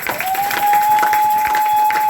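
Congregation applauding during a church service in Paris, steady dense clapping filling the space, with a sustained organ-like tone running underneath throughout.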